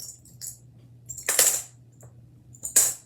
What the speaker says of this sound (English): So we'll just gather our paper clips, get them in the bowl